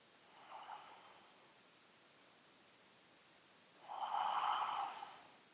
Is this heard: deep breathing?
yes